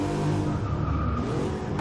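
A modified car with an aftermarket intake and exhaust drones loudly and steadily up close, a rough, buzzy engine note holding a fairly constant pitch with no pauses.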